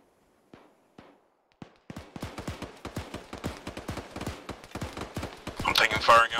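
Gunfire in the military shooter ArmA 3: a few isolated shots, then dense rapid bursts of rifle and machine-gun fire that grow louder and closer, with radio-style voices talking underneath.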